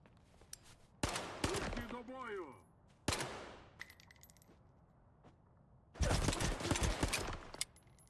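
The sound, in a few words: pistol gunfire in the video game STALKER 2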